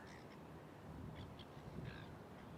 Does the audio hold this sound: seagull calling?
yes